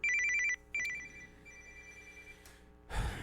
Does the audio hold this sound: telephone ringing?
yes